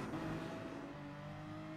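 A race car in GT Sport exits the final chicane on the last lap, its engine a steady, droning whine that shifts slightly in pitch, heard quietly with no talk.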